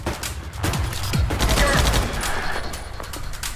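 Heavy weapon fire from the video game ADACA rattles in dense rapid bursts, loud and continuous, with sharp impacts and a low rumble underneath, and no talking over it.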